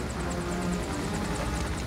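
A helicopter hovers in a mountain action film scene, a steady, moderately distant rotor drone with rapid chopping pulses and a rumbling engine underneath, with no voices.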